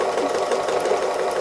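A sewing machine stitches back and forth in smooth lines during free-motion embroidery on an autumn owl wall hanging, giving a fast, even mechanical whir that is close and unbroken.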